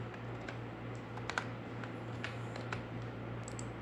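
Rapid, quiet clicks of a computer keyboard as someone types into a visa application form, light irregular keystrokes with a few sharper taps.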